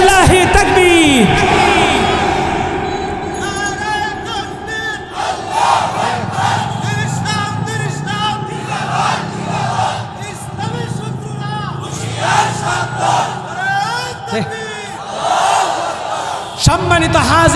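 Large crowd at a religious gathering answering a takbir call with a loud, unified chant, the roar of voices rising and falling in repeated bursts that fill the space, close and dominant.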